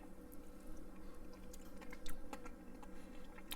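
Broiled redfish with a crunchy breadcrumb crust, crawfish and butter gravy chewed close to the mic, a steady run of soft wet crunches and small clicks over a constant low hum, no talking.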